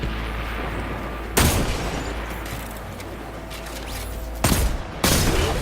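Gunfire bursts and reloading in the Destiny 2 video game, with a steady background of game ambience broken by a few sharp, loud shots near the start and toward the end.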